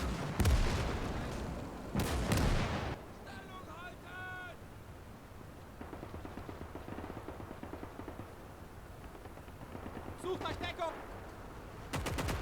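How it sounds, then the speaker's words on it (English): Gunfire from the WWII strategy game Gates of Hell, with loud close shots, scattered machine-gun bursts and distant crackling fire across a battlefield. Someone talks over the battle at times. "And there's bullets coming in."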